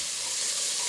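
Spice masala fries in a pan for chicken biryani, giving a steady, loud, close sizzle with a dense hiss throughout.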